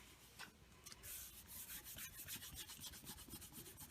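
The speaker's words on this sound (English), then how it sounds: "I got some glue on there, so I'm just rubbing it off." A hand rubs dried glue off the cover of a handmade journal, producing close, rough scratchy strokes in an uneven back-and-forth rhythm, alone without talk.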